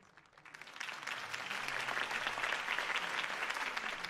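Crowd applause following a campaign speech in Telltale's Batman game, rising from a few claps into sustained, dense clapping that holds steady and fairly loud throughout.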